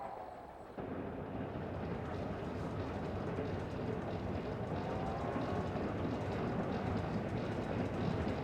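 A railway carriage rolls along the rails with a dense, steady rumble and faint rhythmic clatter, continuous throughout with no voices.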